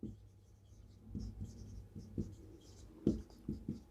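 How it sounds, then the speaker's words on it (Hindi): Chalk or marker writing on a board in a classroom, with quick scratching strokes and taps in an irregular rhythm, near and moderately quiet. "केस नंबर 5 मैं लिख देता हूँ"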